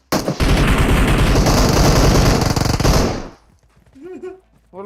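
Rapid automatic gunfire from PUBG Mobile, a battle royale game, rips out loud and close in a sustained burst of about three seconds, then cuts off, and someone speaks briefly in the quiet after.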